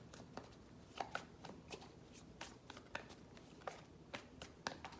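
Tarot cards shuffled and drawn by hand, with soft close riffling and light taps at an irregular rhythm, all faint and quiet.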